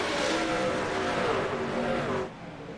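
Race cars roar past on the Iowa oval during a playoff elimination event, a dense loud engine wash with a rising, sweeping pitch as cars pass close, dropping off sharply near the end.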